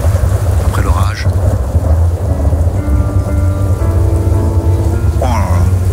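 A thunderstorm with steady rain, loud low rumbling thunder filling the whole stretch and sharp cracks near the start and end, with a faint voice briefly audible.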